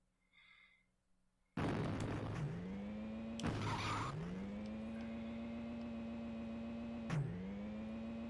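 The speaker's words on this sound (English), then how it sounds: "I love the skidding effect." A car skids in a retro racing video game: a loud synthesized engine drone kicks in suddenly, then dips and swoops in pitch with screeching tire skids and a burst of noise, repeating twice more.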